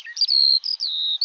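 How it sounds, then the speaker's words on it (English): A skylark sings over a raised bog in Longford, a bright, high, warbling stream of rapid trills and slurred whistles, loud and close, with only brief gaps between phrases. "This is the sound of their fantastic songsters, Skylark"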